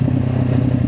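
A motorcycle engine on a first ride gives a brief, loud, steady low rumble with a slightly pulsing texture.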